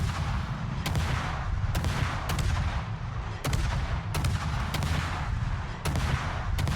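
Naval 130 mm guns fire in the World of Warships video game, eight or nine sharp booming shots spaced irregularly about half a second to a second apart over a continuous low rumbling background, with no talk.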